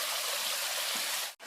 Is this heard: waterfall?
yes